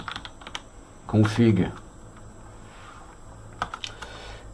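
Computer keyboard on an Arch Linux setup, typed with steady rapid clicking and tapping, up close, with a short spoken word cutting in partway through.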